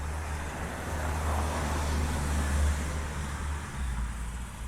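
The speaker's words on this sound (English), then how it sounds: "as far as stereo with the car going from one side to the other" A car passes by outdoors, a steady low road rumble that swells toward the middle and fades again over about five seconds, with no talk.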